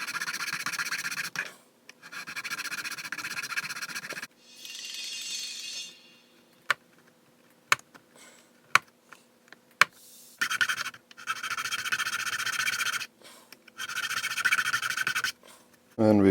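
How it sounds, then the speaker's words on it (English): Hand file rasping to clean up a wooden model ship part for HMS Thorn, in several loud, close bursts of gritty scraping strokes separated by quiet gaps with light taps and clicks. "Now we use the file to clean it up and open it up."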